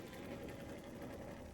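A 2005 Honda Goldwing GL1800 motorcycle idling quietly nearby, a smooth, even low hum with a faint steady purr and no talk.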